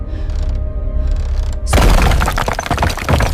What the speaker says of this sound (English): The thick wooden door of the first stall is violently smashed open, splintering into pieces with terrifying.